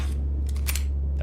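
A weapon is reloaded in the Signalis video game: a few quick, crisp mechanical clicks over a constant low droning background.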